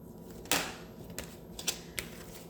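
Tarot cards shuffled for a one-card reading, a few crisp riffles and slaps in quick separate bursts, close and fairly quiet, with no talk over them.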